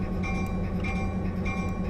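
A train in the Railworks train simulator rumbles steadily as it pulls out of a switch, with a low continuous engine drone and faint periodic rail clicks, heard alone.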